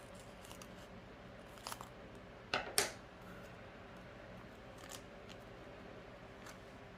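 Scissors cut paper for a junk journal, a couple of short crisp snips standing out in a quiet room, faint rustles around them, no talking.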